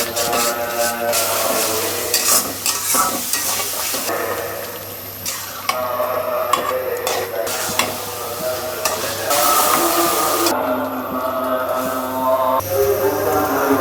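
White pulao simmers in a pot while it is stirred, giving a steady sizzle with repeated scraping and rubbing strokes of the spoon, close and continuous throughout.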